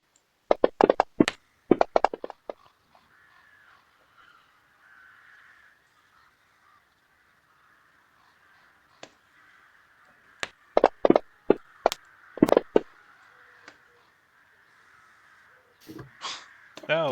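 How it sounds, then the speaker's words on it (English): A flock of crows cawing in sharp bursts, a cluster at the start and another near the end, loud and close over a faint background hiss. "That's a lot of birds."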